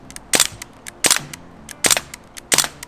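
A Crossman DPMS Panther Arms SBR air rifle fires four sharp semi-automatic shots at a steady rhythm, each a loud close crack with small mechanical clicks in between.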